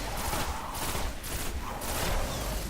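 Rapid bursts of pulse rifle gunfire in the video game Destiny, dense repeated volleys in grouped clusters that fill the whole moment, loud and close.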